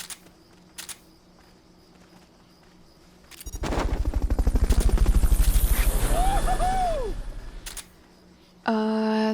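Metal Gear Solid: Peace Walker helicopter being Fulton-recovered in-game: a loud, dense rotor and engine roar swells for several seconds amid rapid gunfire-like chatter, then cuts out into menu tones, with no talk over it.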